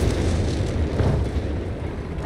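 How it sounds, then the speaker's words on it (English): Artillery shells exploding on buildings in the Company of Heroes 3 video game, a dense continuous rumble of blasts and crashing debris, loud and sustained throughout with no distinct pauses or talk. "Church collapses as German artillery shells they just come crashing through remains of the roof"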